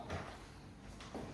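An apartment door in Seville being opened, two faint wooden knocks and slides, one at the start and one near the end, quiet against a hushed indoor room.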